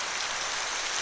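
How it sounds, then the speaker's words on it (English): Steady, faint rain hiss plays as a sound effect within a digital book animation, an even wash of falling drops without speech. "You hear the rain"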